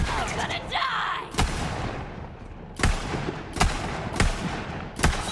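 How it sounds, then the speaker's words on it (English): A bomb going off in Borderlands 3, followed by several sharp, loud blasts spaced about a second apart, each with a brief crackling tail, set against busy game noise. "that's still a very much active bomb"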